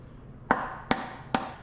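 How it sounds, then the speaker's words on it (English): Three sharp knocks, evenly spaced and close, as a soft hammer drives the right-hand sliding gear shaft bearing out of a John Deere B tractor being disassembled for restoration. "remove the right hand side sliding gear shaft bearing with preferably a soft hammer"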